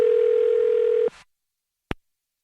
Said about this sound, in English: I'm going to dial this phone number right now